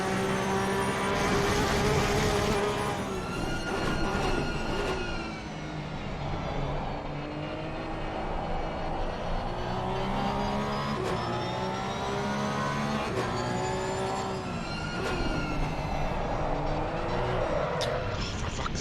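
A Porsche 992 Cup race car laps Zandvoort, its engine loud and continuous from onboard, rising and falling through gear changes and throttle lifts, with a voice talking over it at times.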